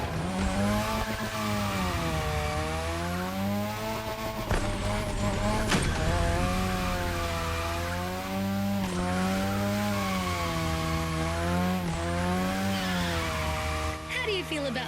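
A modded Mazda RX-7 in the racing game The Crew Motorfest drifts with a continuous loud rotary engine howl that rises and falls as revs swing, joined by tire screech and occasional sharp shifts.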